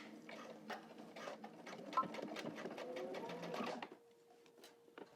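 A home sewing machine runs stitch bursts on pleated pants with a back stitch, a rapid mechanical patter that whirs on for several seconds, then stops, leaving faint clicks and a low hum.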